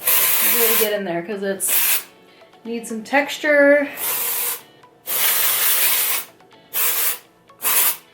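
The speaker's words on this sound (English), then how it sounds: "So I'm going to Batiste the heck out of it" Batiste dry shampoo sprayed onto hair in several loud, close hissing bursts of about one second each, with a voice talking between and over the sprays.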